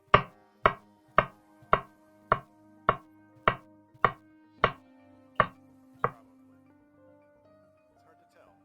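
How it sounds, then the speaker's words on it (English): Knife slicing food on a cutting board: about eleven crisp, evenly spaced chops in a steady rhythm, each hit followed by a brief ringing tone, then a quiet tail. "Slice this down."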